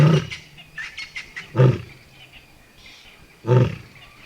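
A lioness in the Botswana bush roars loudly in deep, heavy bursts, three main grunting roars spaced a couple of seconds apart with fainter breathy calls between, close and alone.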